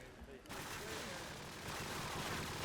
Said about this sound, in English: Heavy nades coming out from Team ESPC as they absolutely